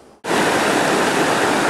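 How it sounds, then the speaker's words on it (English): A brook runs beside a hiking trail on Franconia Ridge in the White Mountains. After a brief quiet moment it sets in as a loud, steady rush of water that stays close and constant to the end, with no voices. "So now we have returned to the same brook that we went up"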